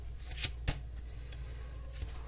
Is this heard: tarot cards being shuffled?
yes